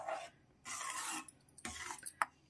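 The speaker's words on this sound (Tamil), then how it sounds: "இதை அப்படியே கைவிடாமல் கிளறிட்டே இருக்கணும்" Stirring a ghee-enriched mixture in a pan, with bursts of scraping and rubbing against the pan base separated by quieter gaps, plus a faint clink near the end.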